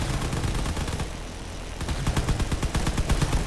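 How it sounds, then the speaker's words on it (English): Railguns fire in a Drone Wars space battle as rapid, rhythmic bursts of crackling shots, a dense barrage that briefly thins before surging back in quick repeated pulses. "A lot of railguns being fired."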